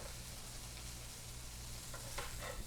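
Beef filet steak sizzles with garlic butter in a hot pan, giving a steady, even hiss of frying with a few small pops near the end and no voices.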